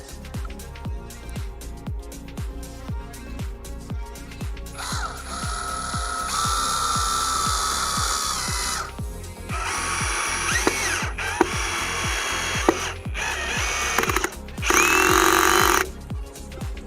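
Hychika 18V brushless cordless drill driver with 60 Nm torque driving a screw, with a rapid ticking clutch early on, then bursts of high-pitched motor whine, loud and close, separated by brief pauses.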